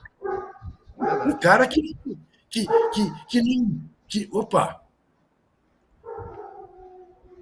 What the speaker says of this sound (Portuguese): Tem um cachorro bravo.